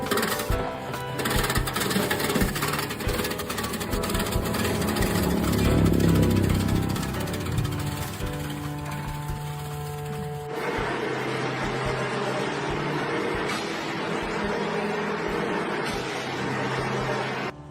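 A wood chipper shreds a green tree branch into pieces, a steady loud mechanical grinding and rattling roar that surges in the middle and then settles into a harsher, even chopping drone for many seconds.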